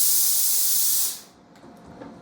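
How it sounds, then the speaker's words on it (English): Laurastar Lift steam iron releasing a loud, steady hissing blast of steam for about a second before it cuts off, leaving faint quieter clicks and room noise. "You're going to get the same steam."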